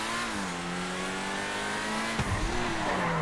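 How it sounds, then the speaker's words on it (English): Lamborghini supercar engine in GTA V revving hard, its pitch climbing in steady harmonic sweeps, then dipping with a shift and rising again near the end, loud and close with no talking. "Wow, the RPMs just skyrocket immediately. So classic Lamborghini."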